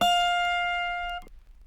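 An autoharp's higher-octave D sharp string ringing out from a pluck, a bright close tone sustaining for about a second before being damped abruptly, with no talk.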